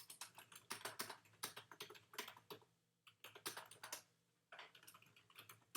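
Fingers type a short note on a computer keyboard in quick, uneven bursts of close clicking, with brief pauses between runs of keystrokes and no voices.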